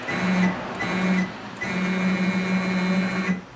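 A CNC machine jogs under Mach3 button control, its stepper motors whining in a steady hum for three short moves, each stopping abruptly, the last lasting longest.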